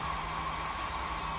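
A soldering fume extractor fan runs steadily, drawing smoke off the work, giving a constant close airy whoosh with a faint hum beneath and no talking.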